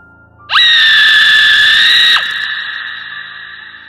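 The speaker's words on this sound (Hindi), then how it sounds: "फिर मैं अचानक से बहुत तेज चिल्लाई" A woman screams loudly and close up for about a second and a half, a sustained shrill cry that drops off sharply into a lingering tonal hum.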